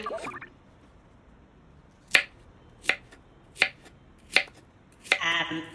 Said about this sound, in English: how long are you going to be chopping carrots?